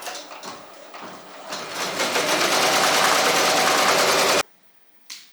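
A Ricoma MT1501 embroidery machine starts up and runs with a dense, rapid mechanical stitching whir that builds and holds loud and close, then stops abruptly, followed by a short clack.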